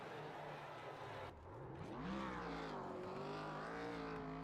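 An 85 Chevy race car in a Five Flags Speedway sim racing game does donuts, its engine droning loud and close with pitch sweeping up and down as it revs through the turns, while a voice talks underneath.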